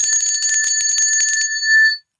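A small bell rung by hand, a bright, shimmering, sustained ringing with quick repeated strikes for about a second and a half, then a short lingering tone that cuts off.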